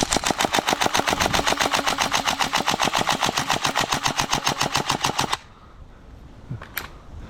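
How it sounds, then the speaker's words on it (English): GHK AKM airsoft rifle firing full auto, a loud, fast, even rattle of rapid shots lasting about five seconds before stopping abruptly, followed by a quiet pause with a faint sound or two. "I've fired all the rounds, but it's continuing to fire"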